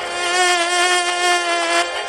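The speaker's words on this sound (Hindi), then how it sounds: "ये आवाज सुनी आपने? मच्छर।" A mosquito whines close to the ear, one loud, steady, high-pitched buzz with a faint wavering in pitch that lasts the whole moment without any voices.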